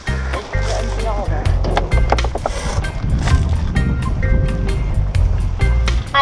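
Skateboard wheels rolling heavily along a road near Kaimu Beach in Kalapana, Hawaii: a continuous low rumble with rhythmic clacks over joints, under a voice talking.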